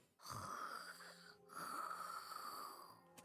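Two long, drawn-out snores from a sleeping woman, wheezy and rasping with a whistling edge, separated by a short pause, faint and close with no talking.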